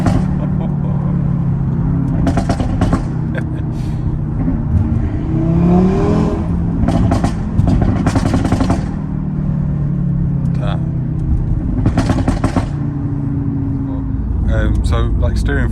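A modified 8V Audi RS3 five-cylinder engine revs hard in repeated sharp bursts with crackles, over a steady loud rumble as the car drives, with a person talking over it.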